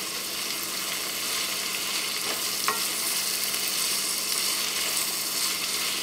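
Ground beef with curry powder sizzles steadily in a frying pan, a constant close hiss of frying with a faint stir or clink partway through, no talking.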